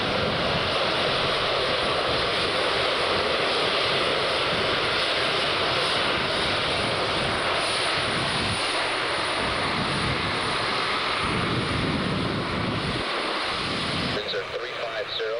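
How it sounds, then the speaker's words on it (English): Three aircraft flying in an air display: a sustained, loud engine drone that holds level throughout, with a voice talking faintly underneath. "3 aircraft and some of the most fantastic flying"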